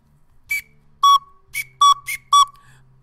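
Two pipe resonators, one with its end open and one closed, sound alternately as bright whistle-like tones an octave apart, six short clean blasts spaced across a few seconds in a quiet room.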